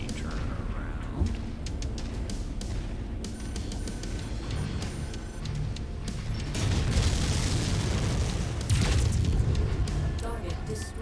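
Enemy mech blown apart in MechWarrior 5, a heavy booming explosion with crashing debris over a dense battle din of game sounds, swelling louder in the latter half with a second big burst near the end.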